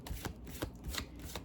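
Tarot cards are shuffled in a steady run of soft riffling slaps and flutters, close and fairly quiet, with no voice.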